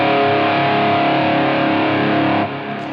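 A heavily distorted electric guitar tuned down to drop D flat rings out as a loud sustained chord, a thick buzzing wall of tone that holds steady before dropping slightly in level near the end.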